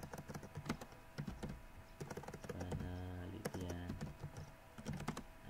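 Rapid keystrokes on a computer keyboard while typing, a steady clicking run of taps with short pauses between bursts, close and fairly quiet.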